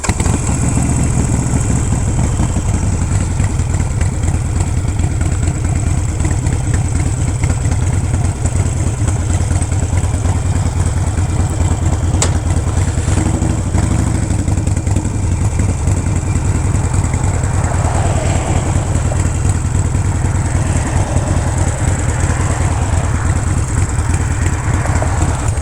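Motorcycle engine during a ride, a loud, continuous close-up rumble with steady mechanical clatter and wind-like hiss throughout, unbroken for the whole stretch, with no voices.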